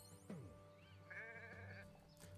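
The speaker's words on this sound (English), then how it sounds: "And let's be friendly to this last sheep" Sheep bleating in the Renowned Explorers video game, a few wavering bleats over a steady game background hum, moderately close and with no talk.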